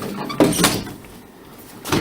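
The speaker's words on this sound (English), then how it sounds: "When you close my closet doors" Closet doors slide and bump shut in a bedroom, a quick scraping roll followed by a solid knock, then another soft thud near the end, close and fairly loud with no talking.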